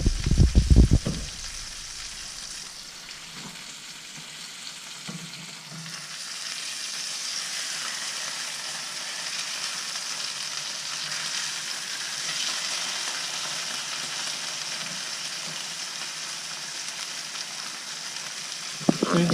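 Pecan-crusted speckled trout fries in a pan with a loud, continuous sizzle and crackle, briefly disturbed at the start and again near the middle as the fish is flipped.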